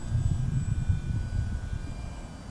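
A small airplane with flaps and vortex generators drones steadily in flight, a low, continuous engine hum filling the cabin in windy, bumpy air, with no talking.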